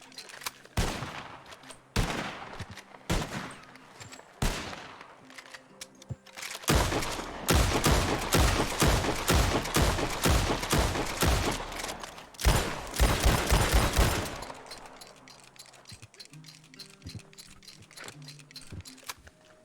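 Rapid rifle gunfire in the Red Dead Redemption 2-based game RedM, with scattered shots early on giving way to a dense, loud fusillade of overlapping cracks in the middle, then fading to sparse distant pops.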